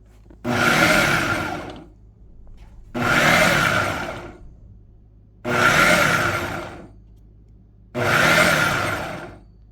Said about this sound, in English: you're gonna put that in the food processor as well